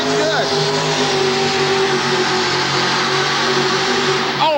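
A pulling truck named Determination roars at full throttle during a 1989 truck and tractor pull in Worcester, Massachusetts, a loud, unbroken engine drone throughout, with an announcer talking excitedly over it.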